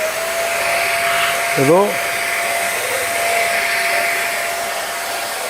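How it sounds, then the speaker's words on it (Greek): A convertible vacuum cleaner is demonstrated in a shop, its motor giving a steady loud whine throughout. A voice cuts in briefly partway through. "Πάρτε αυτή τη σκούπα, έτσι και είπαμε."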